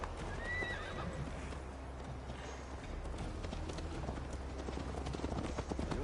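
A horse mounted and ridden in the video game AC Valhalla: a neigh near the start, then steady clip-clop hoofbeats over low rumbling game ambience, fairly faint.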